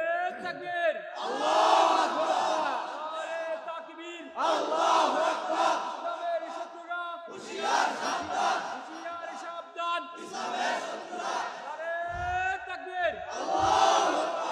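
A large crowd at a religious gathering roars the takbir in repeated call-and-response bursts, several loud chanted waves separated by short pauses, with voices echoing across the space.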